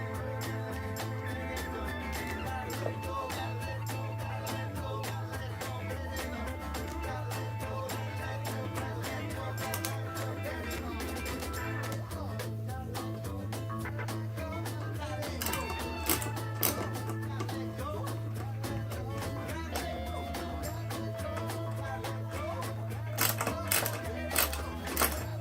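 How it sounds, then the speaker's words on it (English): A screwdriver drives the first screw to mount a Cioks DC5 power supply under a Pedaltrain Classic Jr. pedalboard, small ticking and clicking taps over a steady low hum, with a few sharper clicks near the end. "I'm going to see if we can put the first screw in here."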